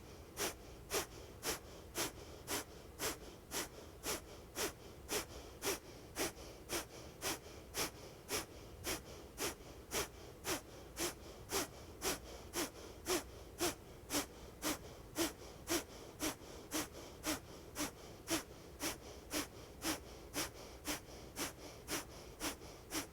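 Steady, rhythmic breaths repeat about once per second during a core-strengthening exercise on a mat, quiet and close, each one a short airy pulse with no talking.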